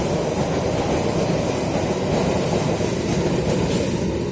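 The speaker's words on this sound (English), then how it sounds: "I was just going to let that train pass by" A train rumbles past close by, a loud, steady roar of rolling wagons with faint rail clatter, no talking.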